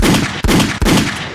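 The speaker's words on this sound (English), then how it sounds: "Oh, and gunshots." Loud rifle gunshot sound effects, three heavy reports in quick succession, each blast followed by a dense, sustained rumbling echo.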